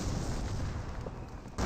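Artillery barrage in Company of Heroes 1, a steady dense rumble of distant shelling and bursts that holds level throughout, then swells louder at the very end.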